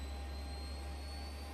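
A Boeing 737's auxiliary power unit and engines spool up in a flight simulator game, a loud, even jet whine with a deep rumble beneath it and no voices.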